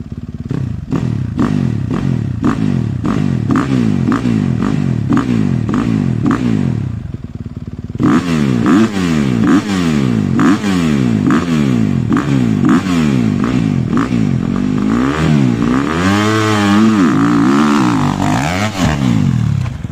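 Several motocross motorcycles revving hard through short, repeated starts, engines rising and falling in rapid bursts, loud and close throughout, with a brief lull before another aggressive run of throttle blips and accelerations.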